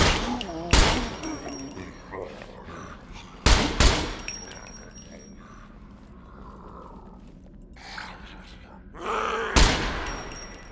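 AK rifle fire in the survival video game Scum: three sharp, loud gunshot bursts spaced several seconds apart, with a voice talking between them.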